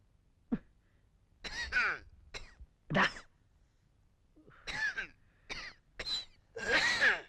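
Close up, someone clears their throat and coughs in short, scattered bursts, mixed with groaning vocal sounds and brief pauses between.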